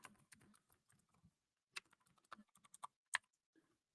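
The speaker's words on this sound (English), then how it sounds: "I keep hitting the wrong key on my keyboard" Keystrokes on a computer keyboard in a quiet room, a run of light clicks, a pause, then sharper scattered taps with one loud stroke near the end; no voice.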